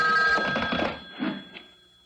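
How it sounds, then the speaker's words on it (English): A telephone rings late at night in a quiet house, two bright electric ring bursts at close range followed by a short faint tail as it stops. "The phone. At this hour?"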